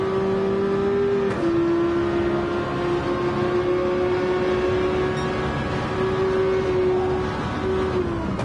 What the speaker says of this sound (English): That one is a Mazda concept car, I believe. I think it's the RX Vision Gran Turismo, I think. But it has the rotary engine in it